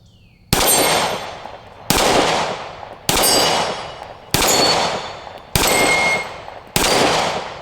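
Six gunshots from a Taurus GX4 pistol fired at an outdoor range, evenly spaced about a second apart, each a loud sharp crack followed by a ringing decay, with no talking.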